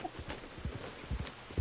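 Horse hooves clip-clop in Red Dead Redemption 2, an uneven run of soft thuds at a walking pace, moderately quiet and fairly close, with a brief louder step at the end and no talk.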